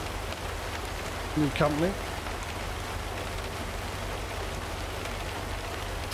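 Steady rain in the American Truck Simulator game, an even hiss of rainfall that runs throughout while a voice speaks briefly near the middle.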